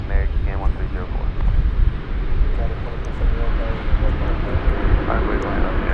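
An American Airlines airliner takes off at DFW Airport, its engines giving a loud, steady roar with wind rumble. A radio voice talks over it.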